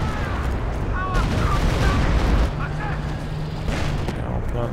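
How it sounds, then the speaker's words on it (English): Stuka dive bomber strike on a machine gun position in Company of Heroes 2, with loud continuous battle noise, explosive booms and gunfire bursts, a whining tone and heavy rumble, all under a commentator's talk. "And Stuka targeting the machine gun."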